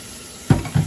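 Hot water pours into a sterilized canning jar being readied for peach preserves, heard as two short, close gushes of running water separated by a brief pause, with no voices.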